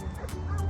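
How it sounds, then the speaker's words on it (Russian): Big dogs barking in quick, short yaps, close and fairly loud over a steady low rumble, all within a fraction of a second. "большие собаки"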